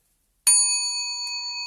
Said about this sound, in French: je vais faire tinter la cloche